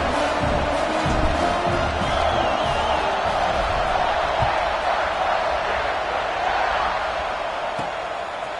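Large stadium crowd at a college football game, Buckeyes against Nittany Lions, roaring steadily at kickoff, a dense, loud wall of cheering held for the whole stretch and easing slightly at the end.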